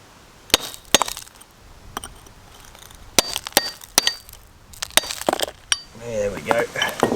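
Hand-held ore containing gold and blue staining struck and cracked along its striations: a series of sharp, bright cracking and clinking hits in irregular bursts, close and fairly loud, with some rustling and a brief voice toward the end.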